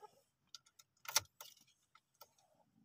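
Car keys jangle and clink close up as the ignition key is turned in a manual-transmission car during a driving lesson, a few sharp metallic bursts with quiet gaps between them.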